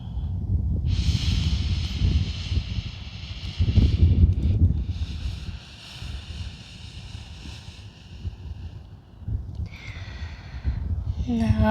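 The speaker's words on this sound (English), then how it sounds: "take a few breaths here" Slow, deep breaths are drawn and released while a person holds a yoga downward dog pose, a close, airy rush of breath rising and falling over a soft tonal background.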